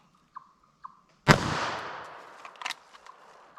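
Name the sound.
gunshot firing .380 ACP FMJ round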